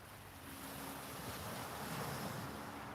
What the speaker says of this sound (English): Yeah, and I think we've got this northerly wind for a couple of days